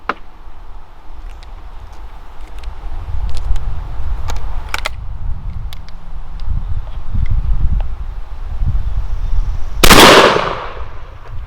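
A Rossi Tuffy .410 shotgun fires one loud, sharp blast outdoors on a range, preceded by quiet rustling and faint ticks, with a brief noisy tail fading afterward.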